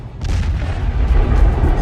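A missile strike explosion in war-torn Ukraine, a heavy low rumbling boom that erupts and rolls on loudly with dense, sustained roar and crackle, no voices.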